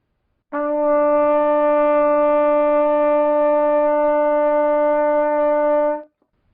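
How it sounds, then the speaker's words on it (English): A trumpet holds one bright, steady E note, played with the first and second valves, for roughly five and a half seconds, loud and close, ending abruptly with no other sounds around it. "Now one step higher is an E, and you play that using the first and the second valves."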